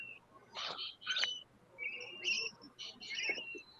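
Small birds in the Philippines chirp in short, high bursts, some brief and some drawn out, fairly faint over a low background hum.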